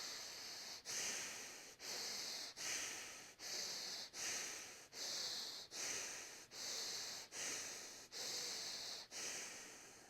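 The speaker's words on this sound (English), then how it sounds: "And breathe in" Slow, deep breaths drawn in and out about ten times in a steady rhythm, each a loud, close, airy rush with short pauses between, no talking.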